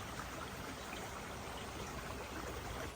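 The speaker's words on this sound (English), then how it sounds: "definitely our mountain stream of the day" A clear mountain stream on the Appalachian Trail in Massachusetts flowing steadily, making a continuous, even wash of rushing and trickling water with no voices.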